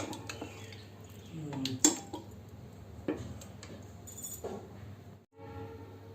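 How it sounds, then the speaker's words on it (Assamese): Meat curry made with ginger, garlic and onion being moved from a pot into a bowl in a home kitchen: soft scraping and clinking of a metal spoon against cookware, with a few sharper taps, faint and close, with occasional faint talking. "এতিয়া মই এটা বললৈ ট্ৰেন্সফাৰ কৰি পেলাই আপোনালোকক দেখুৱাওঁ।"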